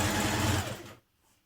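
A sewing machine stitches shirring elastic into dress fabric, running steadily and loudly for about a second before stopping abruptly.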